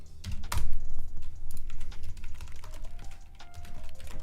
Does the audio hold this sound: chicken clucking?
no